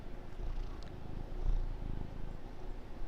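A pet cat purring close up, a soft steady rumbling purr that keeps going with no talk over it.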